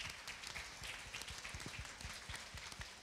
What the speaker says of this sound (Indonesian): Ya, kita berikan aplaus.